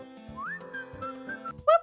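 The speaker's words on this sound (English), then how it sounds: "I have the fucking whistle song as my alert for like the past 2 years" A whistled melody used as a phone alert tone glides and holds steady pitches, then ends in a short, louder two-note chirp; no talking over it.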